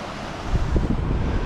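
Noisy Creek, a fast mountain stream near Baker Lake, rushes with a steady, dense roar of turbulent water, heard close and alone without any voices.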